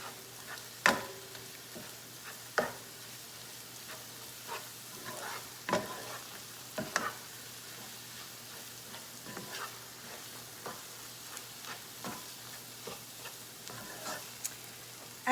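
Garam masala, cumin and pepper flakes stirred in a pan for butter chicken, giving a low steady sizzle broken by scattered scraping and clicking strokes of the spoon, close and alone.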